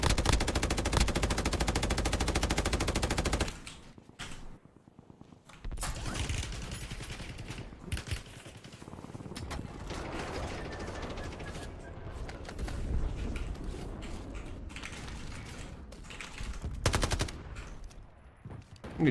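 Bursts of LMG machine gun fire in a Call of Duty match crackle loud and close, long sustained volleys broken by a short pause before the shooting resumes, with no talking.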